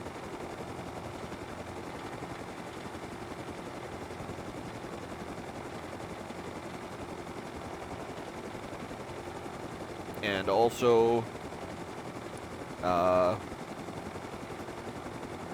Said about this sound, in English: the plane's out there for the supply signals, and also the cargo plane there, which is like right in front of us here